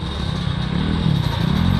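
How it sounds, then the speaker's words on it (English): Kick-started dirt bike at a K class hare scramble race idles with a steady, loud, rough engine drone that swells slightly partway through, with no talking. "I got your bike started for you"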